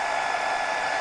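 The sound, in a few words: hair dryer running on Delta 3 power station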